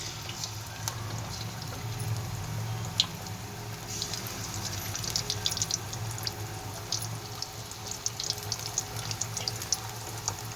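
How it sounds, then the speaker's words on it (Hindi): Batch of small pakoras frying in hot oil, a continuous low sizzle with scattered crackles and pops throughout, faint and steady with no talking. "तो अब हम इसमें डालेंगे पकौड़े।"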